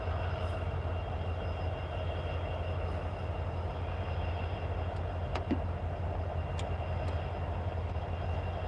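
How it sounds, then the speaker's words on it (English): CSX lead locomotive 4706 idling on the track in Alabama, a steady low diesel rumble held for several seconds, with faint distant clanks and a brief sharp knock partway through, no talk. "CSX lead locomotive 4706 is waiting for a clear approach to go through"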